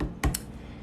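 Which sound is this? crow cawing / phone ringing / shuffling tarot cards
shuffling tarot cards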